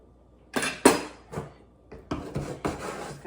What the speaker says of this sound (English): chop that ginger just a little bit